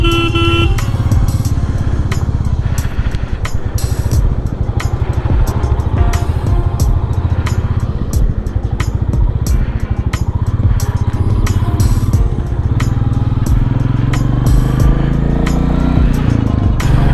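A motorcycle riding on a road during a long trip from Kolkata to Gangtok, its engine droning steadily and closely with wind rush, while repeated car and truck horns honk throughout.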